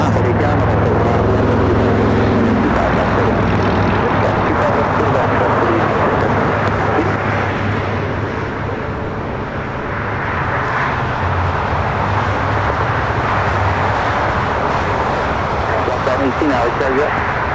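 A Boeing 747 rolling down runway 25 left at LAX gives a loud, continuous broad engine roar that stays steady for the whole stretch, with faint voices underneath.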